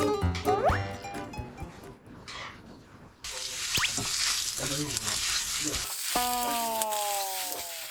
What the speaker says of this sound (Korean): 야채를 일단 볶고 있고요.